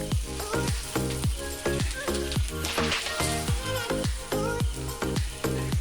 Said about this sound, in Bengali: এইভাবে পরোটাগুলো উল্টে পাল্টে ভেজে নিতে হবে